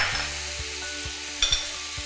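Pumpkin, egg and basil are stir-fried in a pan, with a steady sizzle and rhythmic scraping strokes of the spatula about every half second, close and alone.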